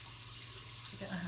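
Tap water running into a sink for hand washing in a home kitchen, a soft steady flow under a low hum that swells slightly toward the end.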